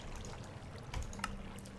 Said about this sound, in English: it can suck water into the system directly like that